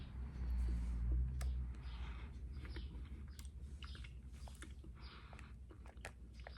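Someone chews a lemon-flavored Skittles gummy candy, with quiet, soft, squishy chewing and biting heard up close and no speech.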